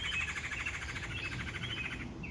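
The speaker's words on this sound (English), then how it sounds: "you're going to pick the bird song probably louder than me a lot of times" Continuous birdsong from birds in surrounding trees near a house, a steady layered chorus of repeated chirps and trills, fairly close and clear with no talking.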